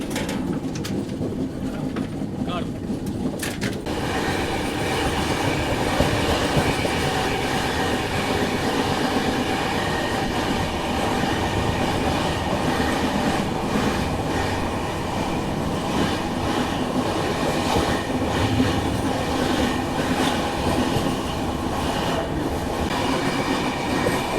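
The GT Express passenger train runs steadily along the rails, with a continuous loud rumble and rhythmic clickety-clack of the wheels. Faint birdsong sits under it, and no one speaks.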